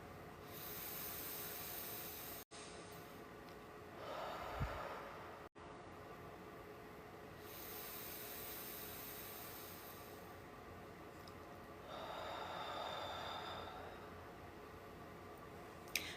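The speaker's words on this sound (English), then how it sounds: "breathe in through your nose, fill up your belly with air, breathe out through your mouth 2 times" Slow, deliberate breaths during a guided exercise session, two long airy inhale-exhale cycles, soft hissing swells separated by quiet pauses, faint and close with no talking.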